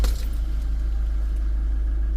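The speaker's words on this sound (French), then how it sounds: "Je démarre le véhicule, on va voir." Diesel engine of an Iveco Daily IV 35C12 van with an engine warning light and EDC fault starts with a brief jolt, then settles into a steady, loud, low idle rumble.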